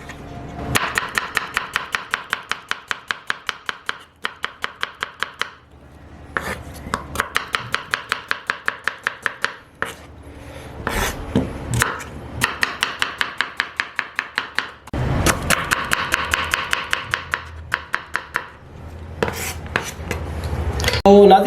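Knife chopping two small onions on a board for karahi bhuna gosht, rapid steady close taps in several quick bursts separated by brief pauses, with no talking.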